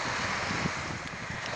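Waves wash steadily at the water's edge, a dense continuous roar mixed with wind buffeting the microphone. No voices or other distinct sounds.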